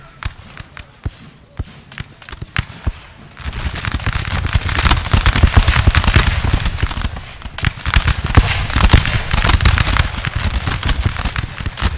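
Musket volleys crackle through a Napoleon Total War line battle against Swedish troops, sparse sharp pops at first giving way to a dense, sustained rattle of overlapping shots that stays loud and continuous.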